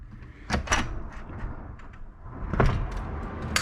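A hotel room window at Hotel Kintetsu Universal City slides open in a few short scraping, thudding pushes, close by and fairly loud with pauses between them.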